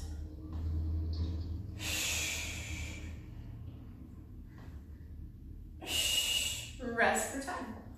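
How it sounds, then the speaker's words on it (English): A fitness instructor's forceful breath during a standing twist in a Tabata workout comes as two loud, airy bursts of exhale, each lasting about a second, over steady background music. "Big exhale"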